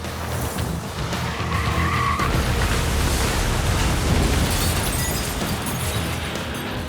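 A 3,600-pound SUV driven by a 59-year-old crashes into a bakery shop, a loud, sustained rush of engine, skidding and crunching impact noise filling the space for several seconds with no talk.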